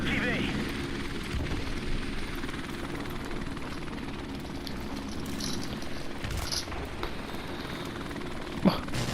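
A drone in Call of Duty hums and whirs like a helicopter, with a steady rotor drone under game effects and a sharp thump near the end, while a player talks over it.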